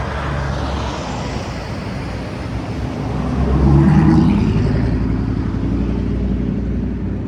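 Road traffic rumbles past, with a vehicle swelling louder as it nears around the middle and then easing into a steady roadway hum.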